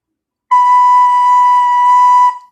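A recorder sounds note B as a single steady, pure sustained tone lasting about two seconds, loud and close, with no talk.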